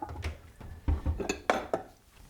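Butternut squash purée being moved into a bowl, with a spoon or utensil clinking and scraping against dishes in several sharp, close knocks spread over a couple of seconds.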